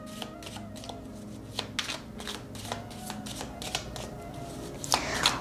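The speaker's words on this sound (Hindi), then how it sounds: "जो टी लीफ ऑरेकल कार्ड्स हैं वहाँ से आपके लिए कुछ कार्ड्स लेंगे" A deck of tea leaf oracle cards shuffled by hand, with quick riffling slaps and soft card flutters close up in a quiet room, a brief louder burst near the end.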